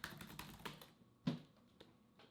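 Quick, faint keystrokes on a keyboard, a fast flurry of taps followed by a few separate, sparser clicks with quiet gaps between them.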